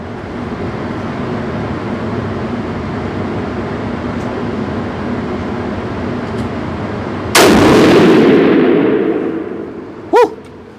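A rifle fires a single Hornady factory round over a chronograph outdoors, one loud, sharp blast that booms and rolls away over a second or two above steady wind or traffic noise, followed by a brief, faint knock.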